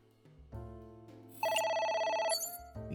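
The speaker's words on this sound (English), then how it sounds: "We're going to ignore the phone call." Ringing phone in the video game AI: The Somnium Files, a bright electronic ring with repeated warbling tones that bursts in loudly over soft synth music, then cuts off as the music continues.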